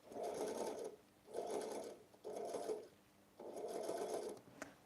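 Sewing machine stitching in bursts while a scrunchie is being made, four runs of steady, whirring motor and needle chatter of about a second each, separated by short pauses, with a small tap at the end.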